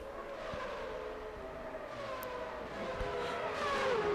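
A Formula One car engine from the video game Formula One 06 whines in high, sweeping tones that rise and fall steadily at moderate volume for about four seconds, with no talk.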